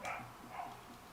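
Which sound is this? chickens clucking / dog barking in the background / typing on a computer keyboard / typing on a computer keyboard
dog barking in the background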